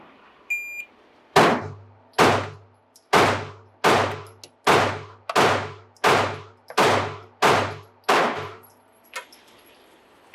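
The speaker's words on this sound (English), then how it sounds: "you are going to fire 1 on the top left and 1 on the top right, back and forth to 10 rounds" Ten sharp handgun shots fired one after another at a steady pace on an outdoor range during a transition drill, each crack loud and close with a short decaying tail.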